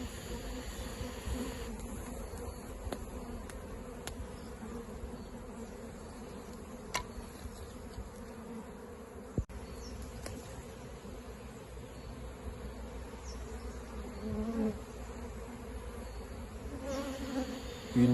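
Honey bees from a swarm buzz steadily inside a hive box, a dense, continuous drone holding close and even throughout with no voices.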